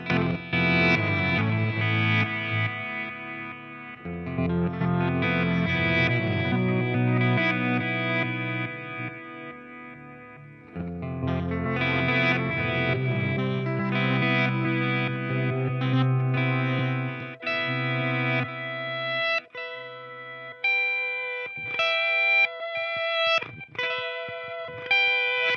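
An electric guitar runs through a Walrus Audio Mako D1 pedal set to reverse delay, its notes swelling backward in washed, ringing layers. Sustained chords give way to sparser single notes near the end, with no voices.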